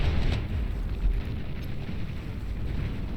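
Artillery shells from the Tsar unit in the strategy game Beyond All Reason burst in a dense, continuous low rumble of overlapping explosions, with a heavier thump near the start and another around the one-second mark.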